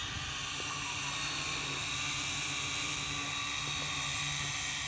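Steady high-pitched whining buzz of an R'bird DMS240 Black Master camera drone in flight, its rotors holding a constant drone with no talk over it.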